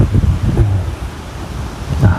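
Cold, dry wind blows outdoors in gusts, buffeting the microphone with a rough, uneven rumble and rustle that swells and eases over a couple of seconds.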